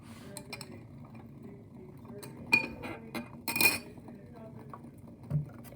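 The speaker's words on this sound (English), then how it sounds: "Now I'm going to transfer that, move this first into the calorimeter." A metal cube heated to 100 °C is moved into a calorimeter in a lab: scattered sharp clinks and knocks of metal and glass, with a couple of louder clunks among quieter handling sounds and a voice talking.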